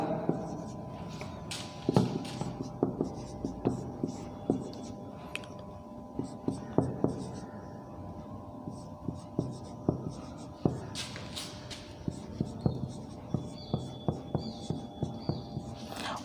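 Pen or pencil scratching out numbers for a maths number-system question, steady close strokes and scribbles with taps at irregular intervals, faint and continuous over about sixteen seconds.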